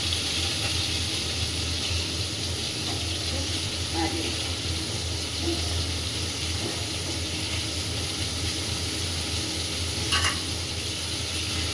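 Onion frying in a pan, a dense, continuous sizzle close by that holds steady throughout, with a few faint clinks and no voices.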